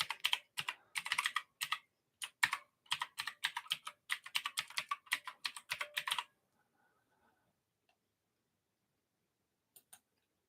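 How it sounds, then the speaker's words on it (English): Rapid keystrokes on a computer keyboard as an email address is typed, a close, crisp burst of clicks lasting about six seconds, then near silence broken by a couple of final taps. "I'll just type it and put it at the top."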